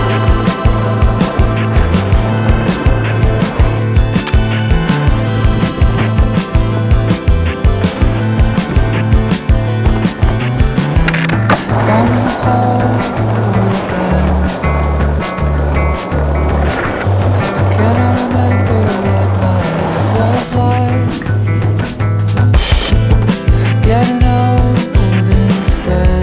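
A skateboard rolls along pavement with a steady, gritty wheel rumble, ticking over seams in a regular rhythm, close and loud throughout, with bursts of clacking and scraping as the board shifts and lands.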